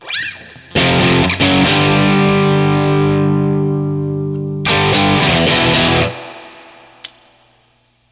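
A heavily distorted electric guitar chugs through a slow halftime sludge riff, with thick sustained chords ringing loud, a pause, then another crashing chord that rings out and fades.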